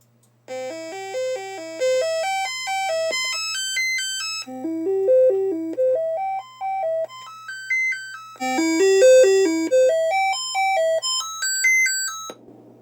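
Test tones from a Commodore SID sound chip play as bright, buzzy chiptune arpeggios rising and falling in stepped runs across several phrases, loud and close, with no voices.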